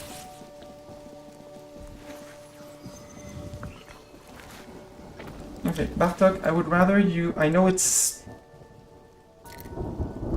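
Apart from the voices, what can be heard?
rain and thunderstorm in Mind over Magic video game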